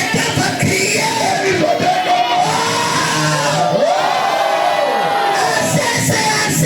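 A congregation shouts and cries out together at a Friday fire prayer night in a church, a loud sustained wall of overlapping yells and whoops from many voices.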